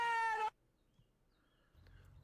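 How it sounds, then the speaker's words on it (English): A stray cat in a video game gives one loud, clear meow, then quiet follows and a low hum comes in at the end. "there's a weird fucking stray cat outside"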